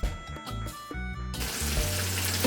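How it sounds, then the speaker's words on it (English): Vegetables and pineapple tumble into a hot pot for a Jamaican-style brown stew sweet and sour chicken, bursting into a loud, steady sizzle of frying that swells and stays close after a few clunks. "I'm going to add all my veggies in here,"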